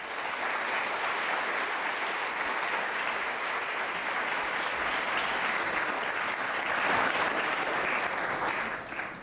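An audience at a campus dialogue event claps steadily to welcome the speakers, a dense, even applause that swells slightly toward the end before fading.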